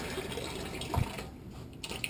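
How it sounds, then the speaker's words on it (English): A small trickle of water runs from the valve of an on-board water tank on a Jeep JK, a faint steady splashing heard on its own. "You can kind of get a small trickle of water."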